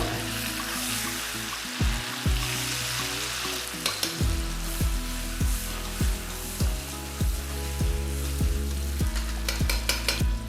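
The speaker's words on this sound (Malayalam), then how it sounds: "5 പച്ചമുളക്, ഒരു വലിയ കഷ്ണം ഇഞ്ചി നീളത്തിൽ അരിഞ്ഞതും കൂടി ഇട്ടതിന് ശേഷം നമുക്കിത് നന്നായിട്ടൊന്ന് മിക്സ് ചെയ്ത് കൊടുക്കാം" Green chilies and long-cut ginger sizzle in hot oil in a pan for Pakistani kadai chicken, a dense frying hiss broken by repeated scraping stirs, close and steady with no speech.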